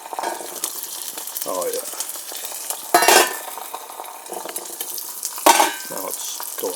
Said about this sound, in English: we're waiting for the eggs to cook